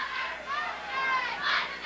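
A crowd at a high school football game, Laurel Highlands against West Allegheny, heard as a distant, sustained wash of cheering and shouting voices that rises and falls without a break.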